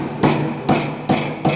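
Impact testing machine hammer swinging free in a mechanical engineering lab, striking in four loud, sharp, evenly spaced clanks about every half second, each with a ringing metallic decay.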